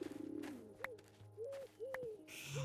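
Pigeons cooing in a video game, several soft rolling coos with a faint background hum, fairly quiet and without talk.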